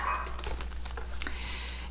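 A pet dog nearby makes a couple of short, faint yips over a constant low hum.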